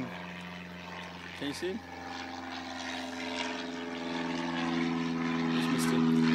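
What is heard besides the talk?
aeroplane taking off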